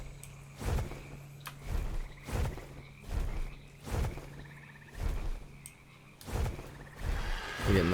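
In the video game Ark Survival Evolved, a frog croaks in a steady rhythm of deep, throaty pulses about every second, fairly loud and alone against a soft ambient bed.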